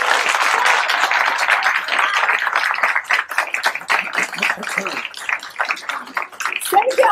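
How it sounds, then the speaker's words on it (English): Sustained applause from an audience at a political talk-show event, dense clapping throughout that thins slightly toward the end, with voices mixed in underneath. "save the applause till the end."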